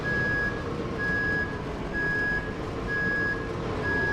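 Reversing alarm on a truck in Euro Truck Simulator 2 while it backs in: a steady series of loud, evenly spaced electronic beeps, about one every second, over a constant low engine rumble, with no voices.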